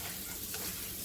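Crushed chopped garlic sizzles in a hot pan while being stirred, a steady close hiss of frying with no talking.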